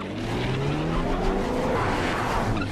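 A 2012 BMW Z4 Roadster with a turbocharged four-cylinder launches hard off the line at a test track, engine note climbing steadily over tire noise, loud and close, with no talk.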